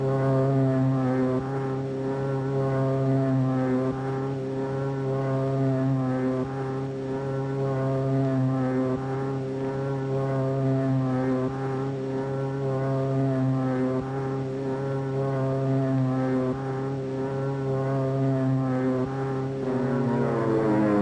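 Propeller aircraft engines drone steadily at takeoff, a loud, close, sustained roar with a throbbing, pulsing beat that holds for the full length, with no speech over it.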